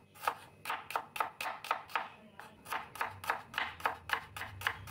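Knife thinly slicing shallots on a board, a quick series of crisp, evenly spaced chopping taps heard close and alone.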